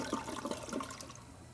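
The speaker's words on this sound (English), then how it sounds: "flush the toilet and check for any leaks around the bowl" A newly installed toilet flushes, a faint rushing and gurgling of water that is strongest at the start and then tapers into a softer trickle.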